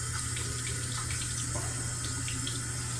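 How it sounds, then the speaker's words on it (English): Tap water runs steadily from a faucet to wet a razor blade over a sink, a constant close hiss with no gaps. "So I'm just going to wet the razor."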